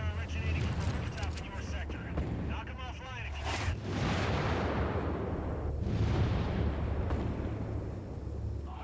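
Heavy mortar and RPG fire from the combat video game 6 Days in Fallujah, with deep rumbling blasts and crackling bursts layered over a dense, continuous battle din throughout.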